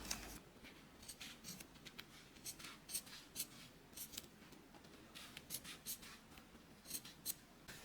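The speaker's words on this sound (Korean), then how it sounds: "요 부분을 가위나 칼로 잘라주세요." Repeated snips of scissors cutting through bag material, the lining trimmed while making a glowing aurora mini bag; crisp irregular cuts close by, fairly quiet, with no talking.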